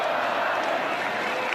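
Dense, steady roar of a football stadium crowd cheering at a college football game between Washington and Washington State, a continuous wash of many voices at full volume with no pauses.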